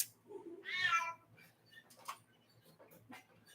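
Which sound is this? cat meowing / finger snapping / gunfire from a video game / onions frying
cat meowing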